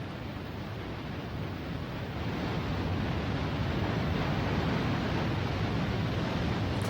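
Sanjo waterfall in Japan, about 100 m high and 30 m wide, roars as a steady broadband rush of falling water, loud and continuous with no voices.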